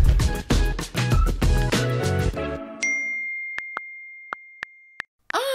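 A mobile phone lets out a string of short, clear electronic beeps, spaced apart and ringing in the quiet after a burst of music fades out.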